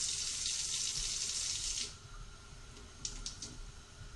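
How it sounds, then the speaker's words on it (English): Hot water runs from a tap in a steady, bright rush for about two seconds and then cuts off, followed by a few small handling clicks. "now we're going to get some hot water"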